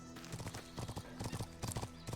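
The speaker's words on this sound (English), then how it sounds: "I was not ready for two horses suddenly being next to me" Two horses in the video game The Talos Principle 2 walk with steady clip-clop hoofbeats, a quick rhythmic clatter of hooves on a hard surface throughout, fairly faint.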